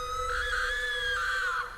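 A woman's sustained, high-pitched scream of fear rises and wavers for under two seconds, loud and close, set over a low dark rumble like a horror sound effect.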